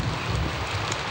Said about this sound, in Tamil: பாரு மழை பெஞ்சிக்கிட்டே இருக்கு